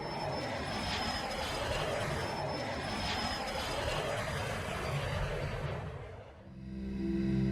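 Steady drone of an airplane engine in flight, a loud, continuous cabin rumble that holds evenly for several seconds before dipping briefly and swelling back up.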